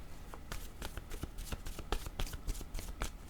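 Oracle cards riffling and being shuffled by hand, a quick run of soft papery flicks and snaps at close range, fairly quiet, with no talking over them.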